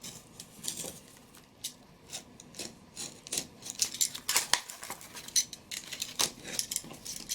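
Scissors cutting through a huge piece of cardboard in a series of separate crisp snips and crunches, close and fairly quiet, with short pauses between cuts.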